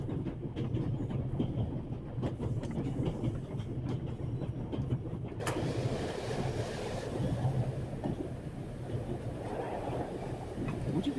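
A train rolls along a railway in the game The Raven Remastered, its steady low rumble and wheel clatter continuous throughout, with the carriage sound shifting slightly partway through.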